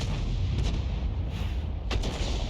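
A tank's artillery shot in an armored combat video game: a sustained rumbling boom with a couple of sharp cracks, including a distinct report near the end, heard alone over a dense low roar.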